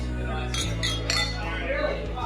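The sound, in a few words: glasses clinking in a toast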